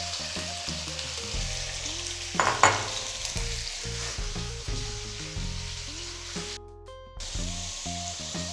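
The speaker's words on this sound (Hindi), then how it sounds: "अब इसमें शामिल करेंगे आधा किलो बोनलेस चिकन।" Half a kilo of boneless chicken sizzles in a pan with garlic over low heat. A steady frying hiss is broken by clattering stirring strokes and a brief louder burst, with no talking.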